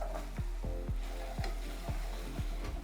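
Beans stirred into a sizzling paste in a pan while cooking Kenyan maharagwe, with steady frying crackle and repeated sharp spoon taps against the pan, close and clear with no talking.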